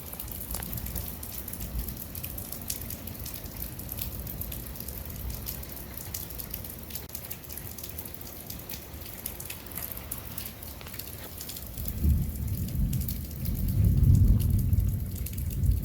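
Steady rain pattering on surfaces during a September thunderstorm with frequent lightning, soft and continuous, with a low rumble of thunder swelling near the end.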